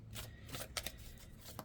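Tarot cards shuffled by hand in a few quick riffling bursts, crisp papery flutters and taps close by, short and moderately quiet with no speech.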